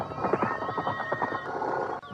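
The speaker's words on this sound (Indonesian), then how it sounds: "ada seorang penunggang kuda menuju ke pendopo ini" A horse whinnies while its hooves clip-clop as a rider approaches, the neighing and hoofbeats close and continuous through the short stretch.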